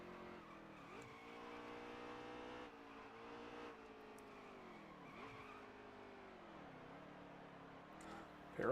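A race car in a racing sim heads toward pit road, its engine note rising and dipping through several gear shifts and throttle lifts, fairly faint and steady over about nine seconds, with no voices heard.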